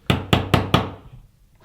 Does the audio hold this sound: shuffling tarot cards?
no